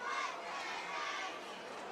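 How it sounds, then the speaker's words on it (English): Large crowd roaring and chattering in the stands at a homecoming high school football game in Sylacauga, a steady dense wash of voices and shouts held at a constant level for the whole stretch. "Huge crowd on hand for Sylacauga"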